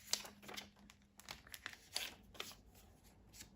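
Plastic photocard fillers and cards pulled out of their sleeves, with soft, close crinkling and rustling in scattered bursts at low volume.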